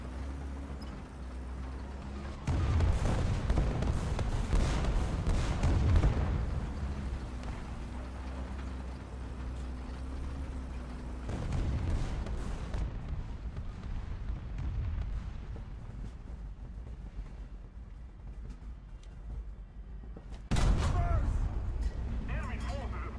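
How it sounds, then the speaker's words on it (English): Artillery shells explode in a tank video game, heavy rumbling blasts arriving in several waves over steady engine drone, with voices speaking over the action. "how many artillery are they dropping on this spot?"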